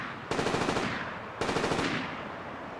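Two rapid bursts of automatic gunfire from the sci-fi action film Elysium, each a dense rattling volley of about a second, loud and close, with a brief gap between them and no voices.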